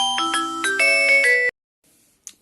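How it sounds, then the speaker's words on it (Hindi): A mobile phone ringtone plays a loud, close melodic electronic tune of stepped tones for about a second and a half, then cuts off abruptly. "ओके सॉरी बीच में फोन बज गया था"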